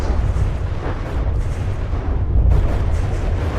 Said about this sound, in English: There's another missile barrage coming in.